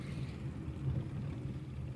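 Low steady rumble of a car engine as a road journey begins, a muffled continuous drone heard from inside the vehicle with no voices.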